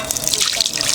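Water poured from a bottle into a pot makes a brief, close, continuous splashing trickle with no voices over it.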